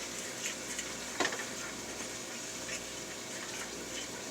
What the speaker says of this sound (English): I've started scraping the bottom of the pan to make sure that those eggs don't get brown